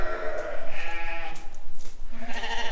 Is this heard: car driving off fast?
no